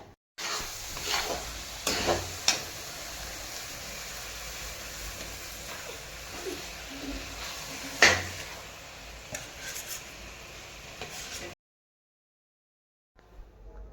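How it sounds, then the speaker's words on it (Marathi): Khoa being stirred into carrot halwa in a pan, a close, steady scraping and sizzling with intermittent clinks of a spoon against metal, no talk, cutting to silence near the end before a brief return of sound. "आपल्याला मिक्स करायचा आहे खवा."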